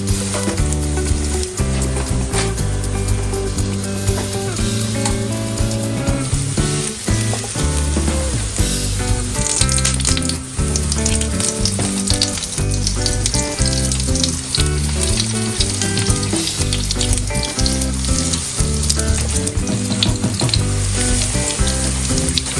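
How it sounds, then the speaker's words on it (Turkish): A continuous sizzle of egg-dipped pastries frying in oil runs throughout, mixed with a layer of steady tonal droning in the background. "Bazen de böyle yumurtaya batırıyorlar ve böyle kızartıyorlar"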